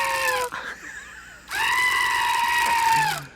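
A talking greeting card with a billy goat on it lets out a loud, drawn-out human-like goat scream, two bursts with the second longer and wavering, alone and close.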